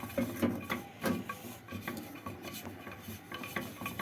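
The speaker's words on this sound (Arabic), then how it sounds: "نشتغل كده تقليب تقليب تقليب عشان نحمر الدقيق كده نسويه" A utensil stirs and scrapes flour around a pan as it toasts, with scraping and soft clinks continuing steadily, close up and moderately quiet, with no talking.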